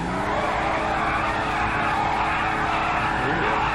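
A car engine revs hard on a dyno in GTA 5, set at 85, giving a loud continuous high roar with screeching tire noise, steady and close throughout.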